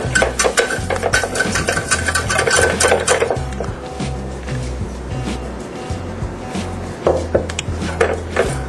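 A utensil stirs and scrapes 70 grams of flour into melted butter in a pan for a lasagna bechamel, a busy run of close clatter and scraping with quieter stretches in between.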